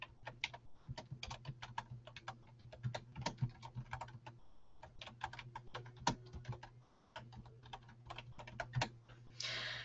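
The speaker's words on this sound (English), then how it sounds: "So what I'm going to do is just type the same thing in here." Rapid typing on a computer keyboard, a steady run of close, crisp key clicks with brief pauses and a louder burst at the end, no talk.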